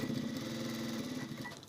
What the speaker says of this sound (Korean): 스티치 박음질로 한 바퀴 삥 돌려주겠습니다